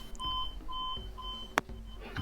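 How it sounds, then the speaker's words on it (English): A hotel alarm clock beeps in short repeated bursts, three evenly spaced electronic tones over about a second and a half, with a brief sharp knock after them and faint room noise around. "this hotel's alarm clock is going off"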